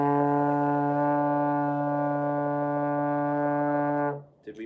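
A trombone with the slide in fourth position holds a steady, full D note for about four seconds, rich and buzzy, then stops abruptly with no other sound around it.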